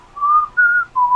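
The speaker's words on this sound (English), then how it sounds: "I can't even whistle that anymore" A person whistles three short sustained notes at slightly different pitches, clear and close, with brief gaps between them and no talking.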